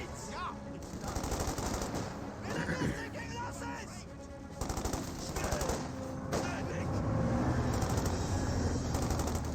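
Dense battle gunfire from a Company of Heroes 2 match, with rapid machine-gun bursts and scattered rifle shots crackling continuously over a low battlefield rumble while a voice talks over it.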